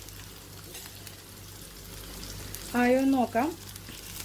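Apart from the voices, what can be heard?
prawns frying in a pan without a lid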